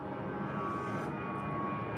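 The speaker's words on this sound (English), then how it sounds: "That's a plane." A fixed-wing airplane passes overhead as a steady, distant engine drone with a faint whine, continuous and fairly quiet throughout.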